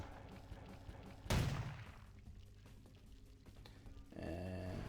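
A shotgun fires once in Vampire: The Masquerade - Bloodlines, a sharp loud blast with a decaying tail, followed by quieter game ambience and a rising hum near the end.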